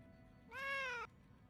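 A single clear, drawn-out meow from a cat in the video game Atelier Yumia, close and tonal, standing alone over quiet ambient background.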